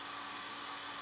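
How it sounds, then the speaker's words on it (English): A hair dryer roars steadily and close by, blowing across a chalk transfer stencil in a craft project, a loud continuous airy rush with no talking. "So I'm going to go ahead and air dry that real quick"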